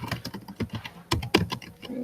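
Fast typing on a computer keyboard while entering git commands, a quick irregular patter of key clicks with a few heavier strokes, close and steady, no voices.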